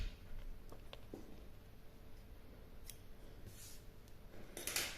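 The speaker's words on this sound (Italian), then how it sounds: "taglio il filo" A couple of soft, close scissor snips through crochet yarn over a low background hiss, with faint clicks and small handling rustles around them.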